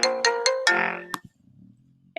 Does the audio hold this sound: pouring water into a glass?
no